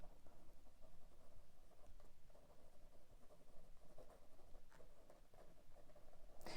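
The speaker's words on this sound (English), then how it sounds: "Writing it down." A pen scratching across paper in steady, soft strokes with brief pauses, close and quiet, with no voices.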